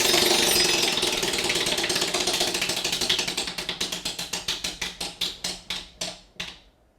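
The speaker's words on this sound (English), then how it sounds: "Go ahead and spin the wheel" A game show prize wheel spins with rapid ratcheting clicks that blur together at first, then slow into distinct ticks spaced farther and farther apart until it stops.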